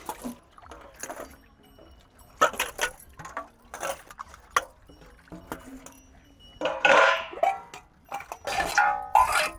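Dishes being washed by hand: metal pots, plates and utensils clink and clatter in irregular bursts, close and fairly loud, with water sounds and quiet gaps between the knocks.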